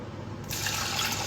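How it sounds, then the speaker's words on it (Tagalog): Water pours into a pot of rice being cooked on the stove, a steady splashing fill that begins abruptly partway through and continues near and fairly loud to the end. "At aking lalagyan lang ng tubig ang aking sinaing."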